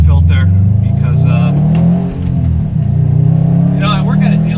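A Subaru WRX STI out for a drive after a long winter: a steady, close engine drone from inside the car that dips briefly midway and then picks back up.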